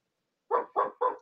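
A dog lets out three quick, sharp barks in an even rhythm after a moment of silence, close and clear with nothing else around them.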